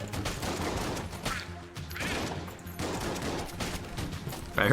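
Rapid gunfire from a black mimic enemy in the video game Enter the Gungeon, a dense fusillade of shots with a brief lull in the middle, loud and close with no talking over it.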